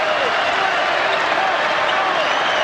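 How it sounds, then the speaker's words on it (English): Basketball arena crowd at an NCAA men's game between Penn State and Minnesota, a steady dense murmur of many voices filling the hall, swelling slightly as the fans come to life. "And the crowd is starting to murmur a little bit. Now they're coming to life."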